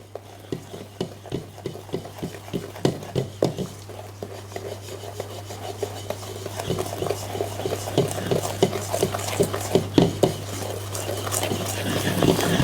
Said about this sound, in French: par la spatule et je vais mélanger tous ces éléments